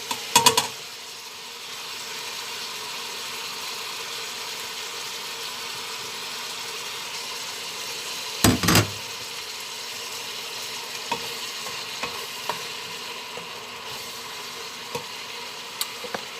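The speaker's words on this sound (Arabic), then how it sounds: "كما كتشوفوا كنقلي الكبده مزيان" Beef liver fries in a pan for a tagine, giving a steady, even sizzle that runs the whole time, with a brief clatter near the middle and a few faint ticks. No one speaks.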